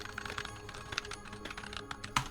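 Keystrokes on a computer keyboard typing out a new material name in Blender, a quick irregular run of light clicks up close, with one sharper tap near the end.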